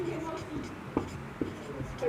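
A teacher writing notes in a class, soft scratchy strokes with a few sharper taps, heard faintly and close under a speaking voice.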